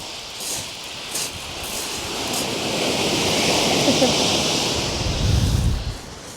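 Waves break and wash up the shingle of Chesil Beach, a steady surf roar that swells into a louder surge near the end, with a voice talking over it.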